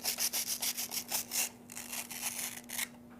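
A baby's toy pizza being rubbed or scraped, giving a series of quick rasping strokes, steady and close, then a few softer scrapes with short pauses.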